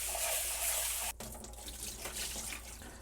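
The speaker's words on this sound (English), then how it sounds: "We'll wash our rice." Rice for butter chicken being washed under a running kitchen tap, with steady water splashing into a sink that drops in level partway through, with no talk.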